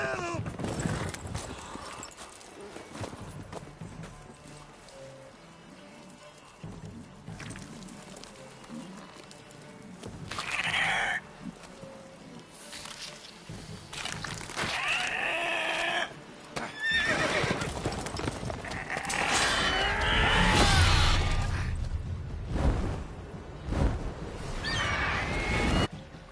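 Horse in The Witcher 3 neighing and whinnying amid hoof clip-clops, the cries rising loudest toward the end, mixed with game sounds and spoken voices.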